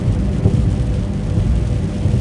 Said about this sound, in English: I am driving literally in the middle of a thunderstorm.